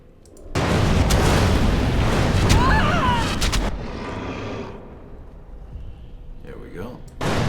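Fire spells in Dragon Age: Origins burst with heavy, roaring explosions that sustain loudly for several seconds, fade into crackling rumble, then end with a final sharp blast.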